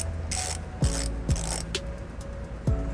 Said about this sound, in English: I'm going to go ahead and take a 18mm socket. And I'm just going to go ahead and ratchet it up.